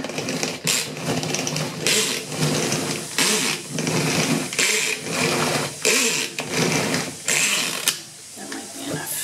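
A kitchen blender strains as it grinds a thick tomato and spinach pesto with mozzarella, peanuts and coriander, giving a loud, steady motor whir broken into several bursts with short pauses between them.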